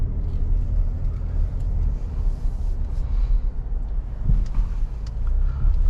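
Steady low engine and road rumble from inside a 2023 Nissan Rogue SL AWD maneuvering slowly through a three-point turn, continuous and close, with faint clicks and no talking.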